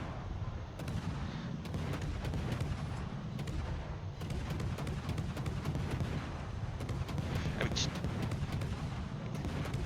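Warship guns in World of Warships boom repeatedly amid a constant low engine and sea rumble, with sharp blasts and distant shell impacts spaced irregularly over a dense, loud battle background.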